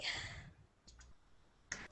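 Computer keyboard typing during an online group call, faint and sparse: a few soft clicks followed by a sharper click near the end, with a quiet breathy sound at the start and no clear speech.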